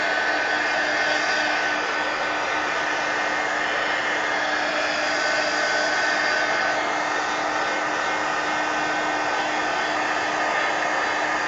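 A hair dryer drying paint on an altered book page: a loud, steady whirring blast that runs unbroken from start to finish with a constant tonal hum, and no voices.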